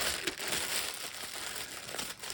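Plastic bag crinkling steadily and close up for a couple of seconds, a continuous crisp rustle with small irregular crackles and no talking.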